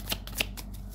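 Cards from a deck riffled in two quick bursts of shuffling, with soft handling sounds between, close and fairly quiet against a low background hum.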